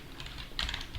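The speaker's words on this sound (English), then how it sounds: "maybe let me try typing something this time" Keystrokes on a computer keyboard while writing in the Micro text editor on Fedora, a steady patter of close, light clicks with a denser burst of taps partway through, no voices.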